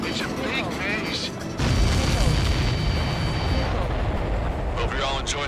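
A deep rumbling blast rolls out in the Ace Combat 7 flight game, loud and sustained under a constant roar of engines and combat noise, with radio chatter over it.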